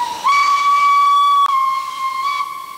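A steam locomotive sounds one loud, steady, high whistle blast of about two and a half seconds over a hiss of escaping steam, alone and close.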